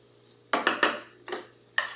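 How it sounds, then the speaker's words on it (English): Okra being stirred in a pot with a utensil, giving several distinct scraping, clattering strokes in quick succession, close and fairly loud. "Now I'm going to stir it again to distribute it a little more evenly"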